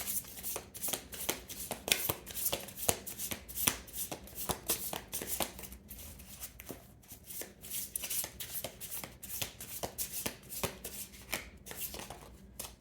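A deck of tarot cards is shuffled over and over, giving quick riffling, flapping bursts in an irregular rhythm, close and fairly soft, with no talking.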